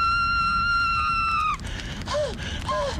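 A loud, sustained high-pitched scream from a film, held steady for about a second and a half, then breaking into gasps and wavering cries over a noisy background.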